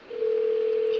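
A steady, loud single-pitch dial tone from a phone call in the Roblox video game, rising in quickly and holding continuously with no talking.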